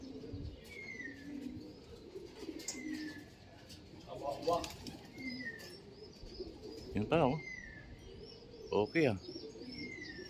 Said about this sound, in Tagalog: Kala ko hindi pa lumilipat ibon.